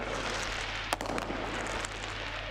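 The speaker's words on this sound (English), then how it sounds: "As fireworks just being set off around the stadium here" Fireworks go off around a football stadium during a 1860 Munich match against FC Bayern Munich II. A few muffled pops and crackles sit deep inside a steady roar of crowd noise.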